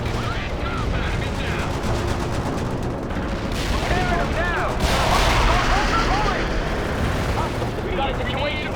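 Rumbling artillery fire-mission explosions and gunfire in the video game World in Conflict, a dense continuous roar of blasts and shots with voices talking over the battle.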